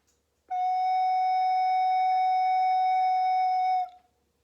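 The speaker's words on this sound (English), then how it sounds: "so this is the fingering for F sharp, and it should sound like this" A single steady recorder note sounds clear and breathy-free, held evenly for about three seconds before stopping cleanly.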